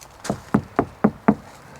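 Five evenly spaced knuckle knocks on the bare, untreated sliding door panel of a VW Transporter T5 van, each knock close and tinny with a hollow metallic ring.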